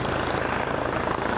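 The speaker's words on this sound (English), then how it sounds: "It will be at least a year before a H-135 helicopter like this one currently used by the OPP will be based in Toronto" An H-135 police helicopter of the type flown by the OPP, heard as a steady, loud, close rotor and engine drone that stays constant throughout, with no talking.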